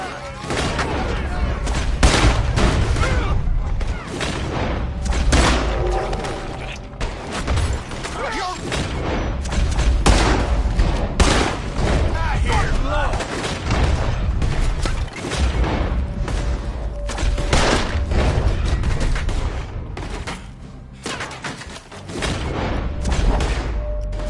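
Rapid gunfire crackles through a Red Dead Redemption 2 shootout: dense, repeated shots and booming blasts in irregular bursts, loud and close, with some shouting voices mixed in.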